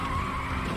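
F1 car tires screeching in a power slide in Virtua Racing, a sustained loud skid over engine drone, no talking.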